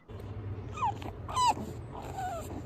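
A dog gives a few short whimpering yips and whines at moderate distance, separate cries over a steady low hum, with no talking.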